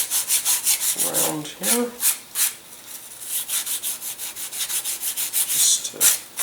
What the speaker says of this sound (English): I'm going to sand the wingtips